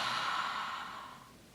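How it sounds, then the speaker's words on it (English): Open-mouthed exhale onto a hand for yoga ujjayi breath practice, a single close, breathy hiss that gradually fades over a second and a half. "breathe onto your hand"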